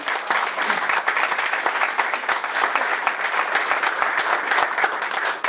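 An audience claps steadily and loudly at an event on Black American military history, where baseball memorabilia is shown, with dense applause running the whole time and no talk over it.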